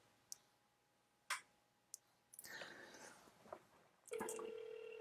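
A phone call being dialed, with a few sharp isolated clicks and taps, then a burst of tones and a steady ringing tone near the end, all fairly faint and close.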